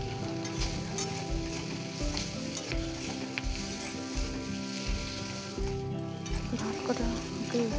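Egg, potato, onion and rice frying together in a pan, a close steady sizzle broken by rhythmic scraping and stirring strokes about every half second, with light background noise and no clear talk.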